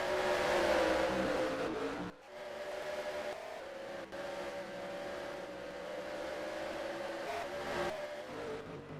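Race cars lapping at Lakeside Park in Australia during Grand Prix heat races, engines droning and revving continuously as cars pass close, with brief dips between them.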